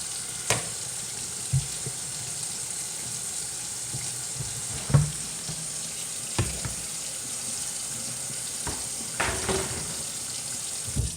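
A kitchen sink tap runs water in a steady, even hiss while the sink is cleaned, with scattered clinks and knocks of dishes rising above the flow now and then.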